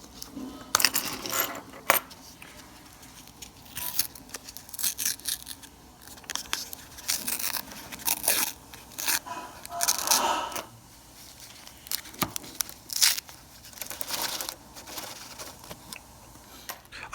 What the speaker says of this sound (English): grab this next roll here and tear right into it